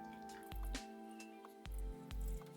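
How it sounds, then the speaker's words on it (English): Splashing water during a face wash with cleanser, heard as three wet splashes and bursts at roughly one-second intervals, close and fairly soft, with drips and small wet sounds between them. "and then I'll wash my face"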